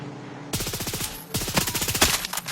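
Bursts of rapid automatic gunfire from a firefight in Far Cry 6, loud and close, with two long volleys separated by a short pause and dense crackling shots throughout.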